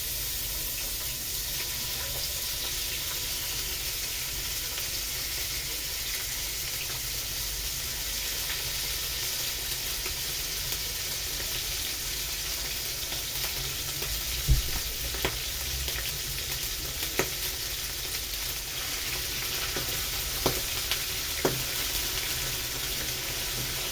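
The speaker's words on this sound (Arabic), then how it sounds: "هبدأ بقى ان انا انزل بالقناصة والقلوب بتاعتي" Chicken gizzards and hearts fry over high heat in a pan, giving a steady, loud, dense sizzle with a few sharp clicks and pops scattered through it and no talking.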